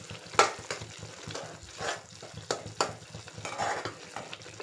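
Onions with ginger-garlic paste are stirred in a pan for a fish curry with raw mango, with soft irregular scrapes and clinks of a spoon over a faint sizzle, fairly quiet and close.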